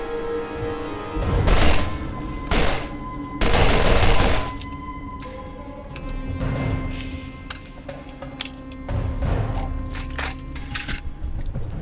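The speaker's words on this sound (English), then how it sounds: "that's basically a machine pistol built on a repeater frame" In Borderlands, a machine pistol built on a repeater frame fires several rapid bursts, loud crackling volleys separated by short pauses, with metallic clinks between them.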